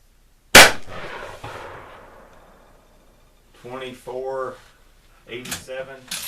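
A single loud .303 British Enfield rifle shot cracks out close by and decays in a long echo, followed by someone talking.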